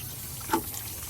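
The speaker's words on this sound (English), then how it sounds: "we're going to see if we can flush out this heater core" Water flushes through the heater core of a 1995 Jeep Cherokee from a hose, a faint, steady rushing hiss with one brief splash in the middle.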